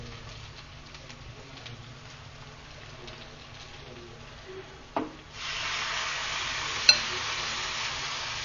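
Mutton pieces dropped into hot oil in a pan for a curry, starting quiet with a few soft clinks and scrapes, then a sudden steady hiss of sizzling that continues close and even, with one sharp tap.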